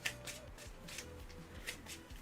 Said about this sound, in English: Gotta shuffle your deck up.